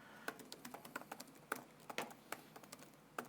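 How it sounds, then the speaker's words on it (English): Quiet, close typing on a computer keyboard, a rapid uneven run of light key clicks with a few heavier taps, heard alone without voices. "so I'll type it out."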